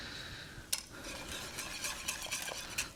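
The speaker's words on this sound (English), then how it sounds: "So we're now just going to start mixing these together like that." A basil ice cream base that has been heated to 80 degrees Celsius is stirred and mixed together, making quiet, continuous scraping and swishing with a few light clinks.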